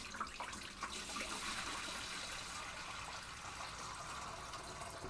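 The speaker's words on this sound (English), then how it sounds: "So now we're going to put more water into it so that we can start scraping the" Water pours steadily into an aquarium tank emptied of its rocks, a continuous soft splashing gush heard close but quiet, with no voices over it.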